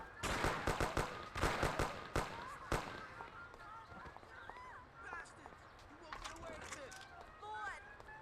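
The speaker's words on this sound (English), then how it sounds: "Why am I being shot by random guys?" Bursts of gunfire in the Mafia: The City of Lost Heaven video game, with rapid clustered shots in the first few seconds and then sparser pops while voices talk over the action.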